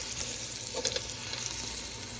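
Pot roast meat searing in a hot pan, a steady soft sizzle and crackle with a few brief louder pops near the middle, heard close up and fairly quiet with no talking.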